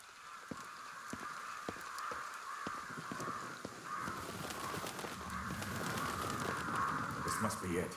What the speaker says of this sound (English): The crows are going crazy.